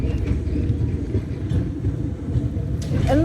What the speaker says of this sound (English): we'll just wait for the tram to go past.